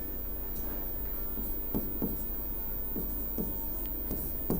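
Chalk or marker strokes scratch steadily across a classroom board, with repeated short scraping marks and taps at an even pace, close and fairly loud.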